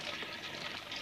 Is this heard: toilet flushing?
yes